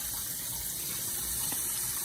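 Tap water running steadily into a sink while eggplant is rinsed, a soft even hiss of flow, close and unbroken with no talking.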